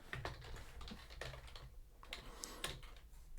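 Quick bursts of clicky keystrokes on a computer keyboard, close and fairly quiet, tapping in uneven runs with short pauses between words while coding.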